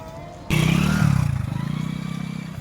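A motorcycle engine catches abruptly and rides off in Varanasi, running loud and close with a steady, pulsing throb that fades only slightly as it pulls away.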